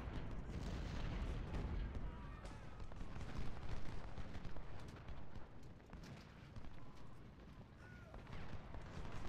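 Battlefield ambience from Ultimate General: Civil War at Fredericksburg, with irregular artillery booms and scattered musket fire rolling through a continuous din, moderately distant and fairly faint throughout.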